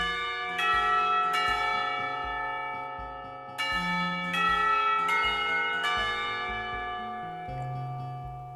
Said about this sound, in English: Blessedly, the bell rings